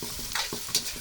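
Fried rice with egg and ham sizzles in a pan while being stirred, close scraping strokes of a utensil recurring every fraction of a second over a steady frying hiss.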